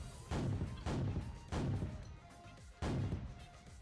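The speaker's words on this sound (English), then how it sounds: "There's an explosion and a light and all this stuff like that." Four booming game explosion effects burst at irregular intervals, each a sharp loud onset decaying into rumble, from a blueprint-built scene in a video game engine; no one speaks.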